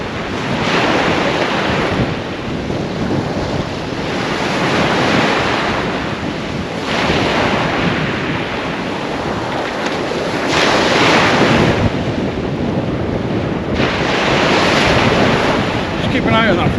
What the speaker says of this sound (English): there's a bit of wind. It's about 25 mile an hour